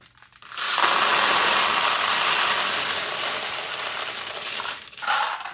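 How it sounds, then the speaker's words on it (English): Steel pachinko balls pour into the hopper of a Nishijin Model B "No More War 1" pachinko machine as a dense, loud, continuous metallic clatter and rattle lasting several seconds, close and alone. "you now can put pachinko balls in."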